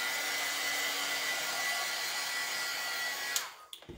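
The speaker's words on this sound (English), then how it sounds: "Just give it a blow dry here." A hair dryer blows steadily with a constant high-pitched whir for about three and a half seconds, then cuts off abruptly, followed by a few soft clicks.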